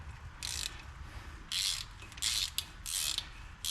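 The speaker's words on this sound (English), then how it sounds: "a couple more turns with the old ratchet" A ratchet wrench turning a bolt during axle and brake pinion seal work on a G900, four or five crisp clicking bursts in a steady rhythm, close by, with no talk.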